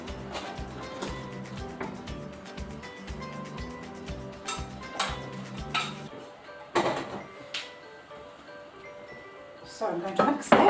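Honey and coconut oil stirred in a bowl in a home kitchen, with rhythmic utensil scraping and light clinks against the dish, then a few louder knocks and clatters, at moderate volume.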